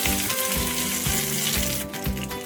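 Mustard seeds, fennel and onion fry in a little oil, giving a steady close sizzle with soft stirring scrapes throughout.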